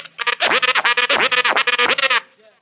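Fast crab scratching on a DJ turntable, the sample fluttering in quick rippling bursts with brief gaps between runs, loud and up close, then trailing off at the end.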